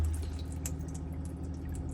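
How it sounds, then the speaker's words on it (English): Water running from a motorhome tap with the water pump running, heard as a soft steady flow with scattered small drips and splashes over a low, constant hum. "So I'll pour the water, pump kicks in straight away"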